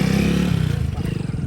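A motorcycle pulls away close by, its engine note rising and falling in a brief, rough burst with some faint clatter.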